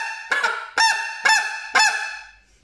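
A Greylag Buster lure call for greylag geese is blown four times in an even rhythm, each note a loud, nasal honk with a quick falling tail, close and clear, with no talk.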